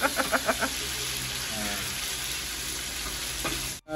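Tomatoes and onion sauté in a pan, a steady soft sizzle with a few quick clinks of a utensil at the start and occasional stirring scrapes.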